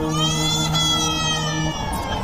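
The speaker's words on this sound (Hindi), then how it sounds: "अचानक उन दोनों के कानों में एक बच्चे के रोने की आवाज टकराई।" An infant's wail rings out in a forest within a cartoon story, a steady high-pitched crying tone holding for about two seconds at close range with no talk over it.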